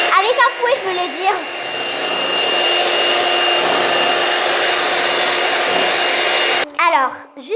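Electric hand mixer whirring steadily as it beats yogurt cake batter, a loud continuous motor drone running for several seconds before cutting off, with a voice speaking briefly before and after.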